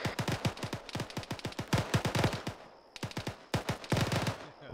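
Rapid bursts of gunfire crack during a military field training exercise, dense strings of automatic shots with short pauses between volleys, loud and fairly close, with no voices heard.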